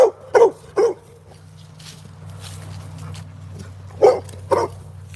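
A dog barks outdoors on a morning nature walk, giving three sharp barks, a pause, then two more, over a low steady hum.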